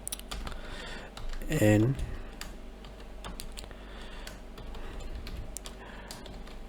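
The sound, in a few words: typing code on a computer keyboard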